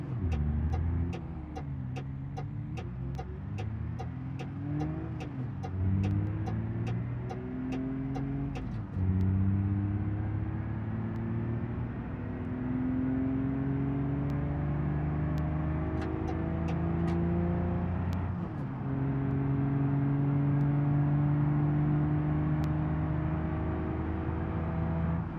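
A car engine in BeamNG revs high in fifth gear around 60 mph, a sustained droning whine that rises with each gear and is broken by brief shift dips, steady and with no voices.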